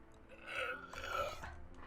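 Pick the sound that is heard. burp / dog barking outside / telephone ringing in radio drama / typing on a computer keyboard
burp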